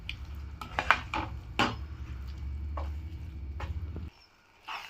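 Instant Yippee noodles stirred with tomato and chilli sauce in a pan: scraping, clinking utensil strokes at an irregular pace over a steady low stovetop hum, close by, which cuts out near the end.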